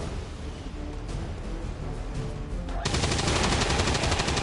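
Gunfire in XCOM 2: War of the Chosen, loud, dense bursts of weapon fire that swell into a heavier, sustained roar partway through, close and with no talk.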